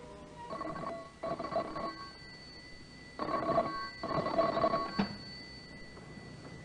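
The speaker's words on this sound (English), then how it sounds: "The next afternoon, the telephone rang in John Davis's office." An old-fashioned telephone bell rings in an office as a radio-drama effect: two double bursts of ringing, separated by short pauses, at moderate loudness with no voices over it.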